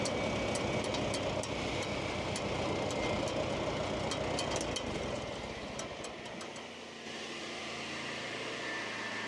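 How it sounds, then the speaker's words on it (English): A Balfor Samurai 700 PTO-driven firewood processor runs with a loud, steady mechanical drone and rattling clatter, then the engine note drops and settles lower as the machine winds down. "So the Samurai 700 made by Balfor is PTO driven. As you can see, it's winding down."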